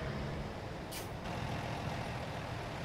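A big rig in American Truck Simulator drives along a highway shoulder with a steady low engine drone and a sharp hiss of air brakes bursting out about a second in, all fairly faint.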